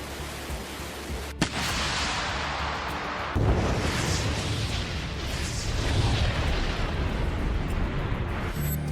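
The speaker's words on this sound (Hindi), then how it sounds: "पुतिन की आर्मी के वोस्तोक ग्रुप के तोपखाने ने ज़ेपोरिज़िया में यूक्रेनी सेना के AFU के ठिकानों को तबाह कर दिया।" Artillery shelling from the Russian Vostok group in Zaporizhzhia: a sharp crack, then a heavy continuous roar of blasts and rumbling, loud and sustained with no voices.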